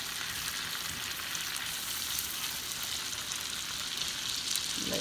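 Beef sizzles and fries steadily in a pan for a home seafood boil with shrimp, a dense continuous hiss of spitting fat that stays loud and close throughout, with no talking over it.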